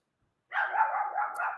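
A dog barks and whimpers in a continuous, fairly loud run of vocalizing lasting just over a second, close by, following a brief silence, with no talking.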